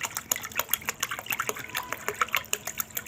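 Water pours into a fertilizer solution of tea leaves and magnesium sulfate for rose plants, a close, steady splashing gush that varies a little in force throughout, with no talk.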